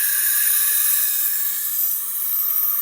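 A knife blade rubbed across a 320 grit diamond sharpening plate gives a steady, close, bright rasping hiss that runs unbroken throughout.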